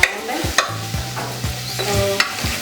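Boiled beef fries with ginger and garlic paste, a steady close sizzle broken by regular spoon scrapes against the pan about every half second.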